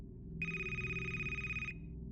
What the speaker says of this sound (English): The phone rang again